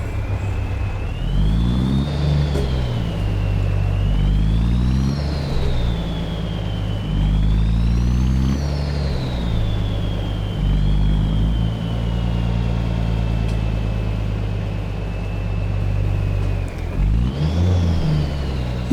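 A truck in American Truck Simulator drives with a loud low engine rumble, climbing and dropping through repeated gear shifts, plus a whining drivetrain tone rising and falling above it.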